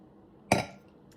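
A single bright clink of a wine glass, sharp and close, ringing briefly before fading into a quiet hotel room.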